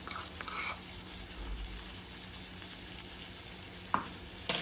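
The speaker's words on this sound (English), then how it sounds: "So we have our pork steaks going with our butter and our olive oil into the pan" Pork shoulder steaks frying in a pan with butter and olive oil give a quiet, steady sizzle with a few sharp clinks of utensils toward the end, no speech.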